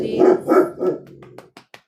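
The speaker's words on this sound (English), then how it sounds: "Puppy interrupts." A puppy barks a few times close by, with short yips trailing off into quieter whimpering sounds.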